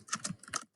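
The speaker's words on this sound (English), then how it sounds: "Miss Pfeiffer having trouble typing." A few quick keystrokes clatter on a computer keyboard, close and fairly quiet, in a short burst that stops abruptly.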